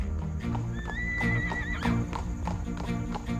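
Horses in a chariot scene, one giving a loud, drawn-out whinny while hooves clip-clop in a steady rhythm beneath it, set against dense background music.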